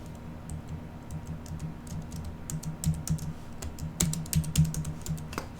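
Computer keys tapped in an uneven stream of light clicks while trying to play Family Composer, a keyboard music game, mostly soft with a few sharper strikes near the end, over a low hum and no talk.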